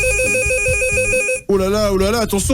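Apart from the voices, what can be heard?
red telephone ringing in radio studio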